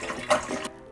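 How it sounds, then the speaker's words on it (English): A cooking pot fills with water for ginger tea, a brief near splashing gush that swells midway and then cuts off abruptly. "fill the pot with water"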